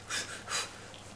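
Woman in labour during a vacuum-assisted delivery with perineal protection, two short, breathy pants in quick succession, close and fairly loud.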